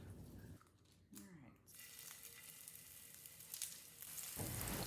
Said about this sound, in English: I brown my meatballs on both sides in a little bit of oil.